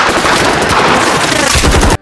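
Dense, continuous machine gun fire in a video game battle against the Yellow forces inside a destroyed building, loud and close with overlapping bursts filling the whole stretch before cutting off abruptly.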